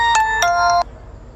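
A phone rings with an incoming call while someone is driving. Three bright electronic ringtone notes sound close and loud, then cut off, leaving a low background hum.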